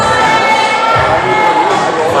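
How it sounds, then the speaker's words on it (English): A crowd at a top rope climbing final gives off steady, loud cheering and excited shouting. The noise holds without a break through the short stretch. "The crowd's getting excited."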